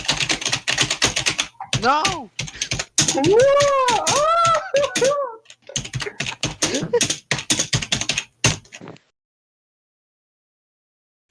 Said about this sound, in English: When I type like this.